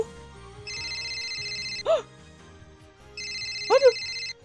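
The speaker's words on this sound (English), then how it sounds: "Answer the phone, Okurin!" A phone ringtone in the Steins;Gate visual novel plays in two melodic bursts, each followed by a short sung or exclaimed vocal flourish, with faint background sounds beneath.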